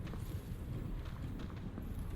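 Footsteps in Dark Souls Remastered in the Lower Undead Burg, a steady run of soft thuds under a constant low ambient rumble.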